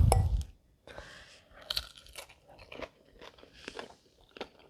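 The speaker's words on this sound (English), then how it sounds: "I got a really good crunch on that tofu." Crispy soy ginger tofu with rice crunches loudly close to the microphone, one sharp bite followed by a series of softer chewing crunches spaced irregularly over a few seconds.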